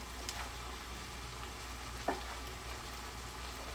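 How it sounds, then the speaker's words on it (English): Scrambled tofu and tomato simmer and sizzle in a pan with a steady soft crackle, and a single sharp scrape of stirring lands near the middle. "sounds like I can hear it simmering away"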